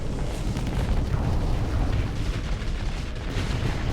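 Missile barrages detonating in the space combat game Starsector, a continuous dense rumble of overlapping blasts and booms, loud and sustained with no pauses.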